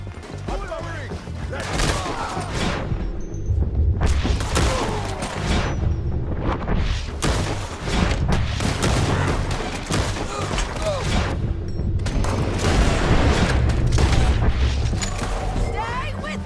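Sustained gunfire from a Red Dead Redemption II shootout, with dense volleys of shots and booming blasts running throughout at high intensity, mixed with game music and occasional shouted voices.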